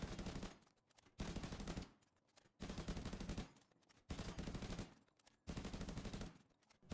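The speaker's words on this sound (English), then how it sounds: "shooting the same targets over and over again" Sharpshooter rifle fire at training dummies in The Division 2, loud repeated bursts of shots roughly every second with short gaps between, no talking.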